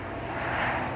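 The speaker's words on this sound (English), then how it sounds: "the planes are flying over me" Aircraft engine drone passing overhead outdoors on a sunny day, a steady broad roar that swells slightly toward the middle of the second and holds fairly loud, with no voices.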